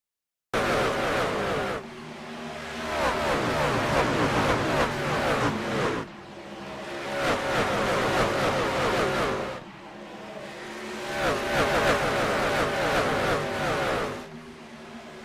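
A field of 26 trucks roars off the start in an iRacing sim truck race at Dover, with loud, continuous engine drone and repeated rising revs and gear shifts, and no voices.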